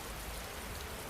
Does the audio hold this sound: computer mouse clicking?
no